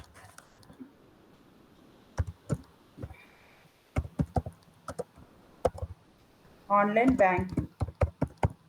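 Typing on a computer keyboard, scattered sharp clicks and short clusters of keystrokes, fairly close, with a brief burst of speech partway through.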